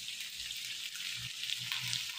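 Dried fish (tuyo) hits a hot pan of bamboo shoot and pork adobo, giving a steady, close sizzle with light crackling pops throughout.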